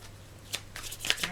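Tarot cards shuffled and drawn by hand, a few quick crisp riffling and sliding bursts close up, brief and alone.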